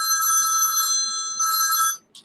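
A telephone bell rings loudly in two long bursts separated by a brief pause, ending abruptly with a short faint blip afterward, with no talking.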